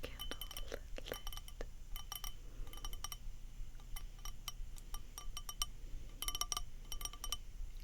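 Colored glass pieces clinking and tapping as they are handled, a series of light, bright chinks in irregular clusters, close and fairly quiet, with a soft background hiss.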